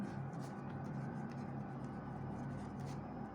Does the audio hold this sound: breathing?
no